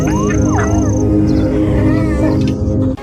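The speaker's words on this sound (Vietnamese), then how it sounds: "Nó đối đầu với báo hoa mai, gầm gừ đuổi báo hoa mai" A hyena growls and snarls at a leopard in the wild, a loud, continuous rumbling growl with rising yowling cries layered over it, close and sustained with no pauses.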